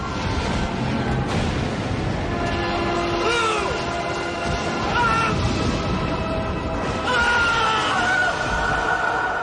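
The Doctor yelling in the 1996 Doctor Who movie, several strained, rising cries scattered over a busy backdrop of crashes and clatter.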